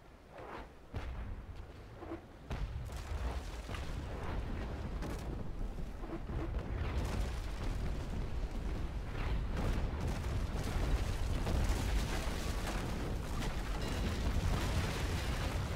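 Ship cannon shots from the Naval Action game: deep booming blasts rolling into a continuous loud rumble of distant and near fire, sustained without pause.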